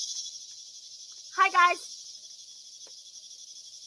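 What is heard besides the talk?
cicadas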